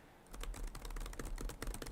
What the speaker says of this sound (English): that act of me typing, mashing my keyboard, hitting enter